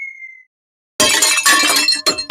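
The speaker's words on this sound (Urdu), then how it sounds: "ماما کا فیورٹ گلدان ٹوٹ گیا" In an animated cartoon, a glass vase shatters with a sudden bright crash and scattering tinkles of pieces. The crash follows a brief faint tone and a moment of silence.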